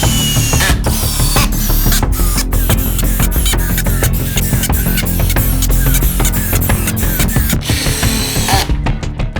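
A power drill bores holes for corner connectors in wood on a DIY power rack build, buzzing loud and close in a run of quick bursts with short stops between them.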